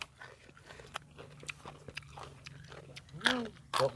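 Someone eats khanom jeen rice noodles with soft chewing and a couple of sharper bites near the end, up close and partly under quiet talk.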